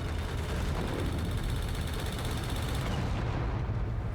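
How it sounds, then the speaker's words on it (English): Dense, continuous weapon fire from the Dead Star space combat game, a loud roaring blast of rapid shots and explosions that holds steady for several seconds before the top end thins out. "Oh, you tried to fire a heat weapon."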